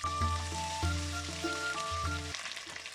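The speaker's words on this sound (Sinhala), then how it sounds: "දැන් අපි මේ විදිහට රත් වෙන තෙල් එකට ඉස්සෙල්ලාම අපි දාන්න ඕනේ ජින්ජර් ගාලික් පේස්ට් එක." Ginger garlic paste sizzles in hot oil for Chicken 65, a steady frying crackle that runs throughout under a faint, sustained background tone.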